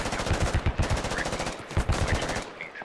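DShK heavy machine gun in the video game Squad, firing two long rapid bursts of loud, evenly spaced shots with a brief gap between them.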